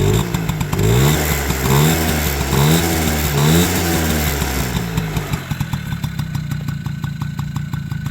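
A Honda Motocompo scooter's small engine runs close by with a buzzy, rapidly pulsing note. Its pitch swells and dips through several revs early on, then settles into a steady, rough putter.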